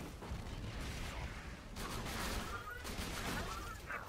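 Rapid, steady blasts from the Conference Call shotgun in Borderlands 2 keep up a constant dense crackle and boom at moderate loudness, with no clear gaps between shots.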